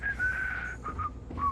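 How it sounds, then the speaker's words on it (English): A game character in Starfield whistles a thin, wavering tune in a few short broken phrases over a low background hum, fairly close and clear. "You cannot whistle, stop trying."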